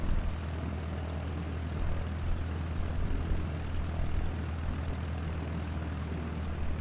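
An aircraft taxis in Microsoft Flight Simulator on Xbox Series X, its engine giving a steady droning hum with a low propeller-like throb, continuous and even throughout.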